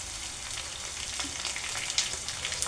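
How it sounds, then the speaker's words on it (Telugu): Curry leaves crackle and sizzle in hot oil in a pan of brinjal garlic curry, giving a steady, dense frying hiss with small sharp pops. "కరివేపాకు వేస్తున్నాను."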